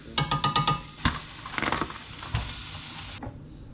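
Meat sizzles in a frying pan for lasagna, opening with a quick run of rhythmic scraping or tapping strokes, then a steady close sizzle that stops abruptly near the end.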